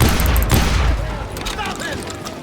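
Rapid gunfire from a Wild West shootout in the video game Call of Juarez Gunslinger, a dense continuous volley of loud shots with booming low end, with a voice speaking over it.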